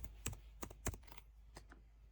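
Keys on a computer keyboard click in short, irregular clusters, with several crisp taps followed by pauses, recorded close in a quiet room with a low steady hum underneath.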